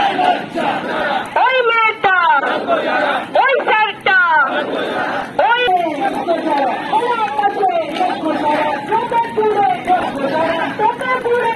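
A protest march blockades National Highway 116 at Nandakumar–Mecheda with tires burning, the crowd chanting and shouting loudly and close in rhythmic, repeated bursts.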